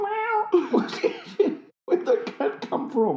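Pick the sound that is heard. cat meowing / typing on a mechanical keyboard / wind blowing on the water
cat meowing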